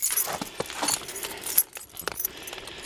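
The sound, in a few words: keys jangling, dropped in the snow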